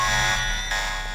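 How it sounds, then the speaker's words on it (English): An alarm blares continuously in the video game Deus Ex, a dense, buzzing electronic tone that stays loud throughout the short moment. "it sets off the alarm"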